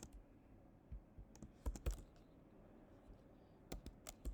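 Quick bursts of clicks from a computer keyboard as code is typed, scattered keystrokes with pauses between short runs, fairly close and quiet, no talking.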